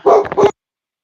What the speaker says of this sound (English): a dog's walked past